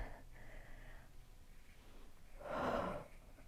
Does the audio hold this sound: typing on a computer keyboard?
no